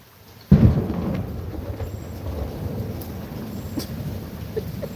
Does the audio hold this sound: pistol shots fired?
no